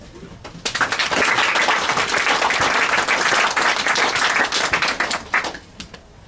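An audience at a bookstore talk bursts into applause to welcome a speaker, dense clapping swelling quickly, holding steady for several seconds, then tapering off near the end.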